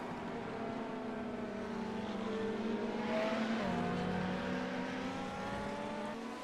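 Race cars lapping Silverstone in a sim racing game, several engines droning and shifting pitch together as they pass, with a steady, loud mechanical whine throughout.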